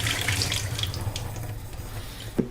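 Water gushes from the tap in an Astoria apartment sink, a steady splashing rush that fades toward the end, broken by a single brief knock.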